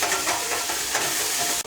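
Onion frying in hot oil for dhaba-style whole masoor dal, a loud, dense, continuous sizzle heard up close, with a brief dip just before the end and no talking.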